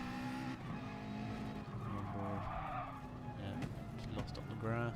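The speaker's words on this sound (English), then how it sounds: "coming through the right-hander, got a bit wide on the grass, bit of throttle. Yeah, slides." A race car in a racing video game runs wide onto the grass through a right-hander on medium tyres, engine droning with tyre scrub and sliding noise, steady and fairly loud throughout, with chatter mixed underneath.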